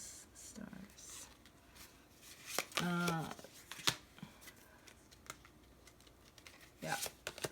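Tarot cards being shuffled and drawn, with intermittent soft riffles and card flicks, quiet and close, while someone speaks in between.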